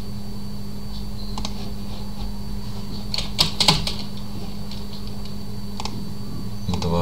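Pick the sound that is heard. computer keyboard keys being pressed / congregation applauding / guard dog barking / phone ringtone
computer keyboard keys being pressed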